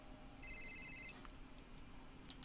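A telephone rings in the Castle detective video game, one short electronic trill standing out faintly over a quiet, low background hum.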